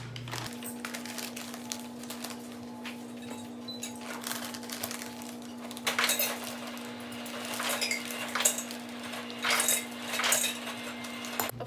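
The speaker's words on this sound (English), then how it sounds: "we're going to start off with putting 2 cups of almond flour in this bowl" Almond flour poured and scooped into a bowl in a home kitchen, with soft clinks and rattles of a utensil against the dish over a steady hum, the scraping and tapping growing busier toward the end.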